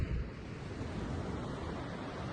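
Surf breaking steadily on a wild, natural stretch of coastline, a continuous broadband wash of waves with some wind rumble, fairly close and constant throughout with no voices.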